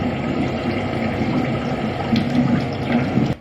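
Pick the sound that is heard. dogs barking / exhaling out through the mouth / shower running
shower running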